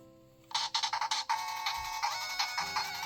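A Walmart-made handheld game console powers on with a bright, loud burst of rapid chiming jingle notes, followed by a sustained electronic melody that plays on its own.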